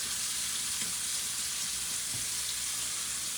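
Steak pan-searing with a loud, dense, continuous sizzle and spatter that holds steady throughout, close up with no voices.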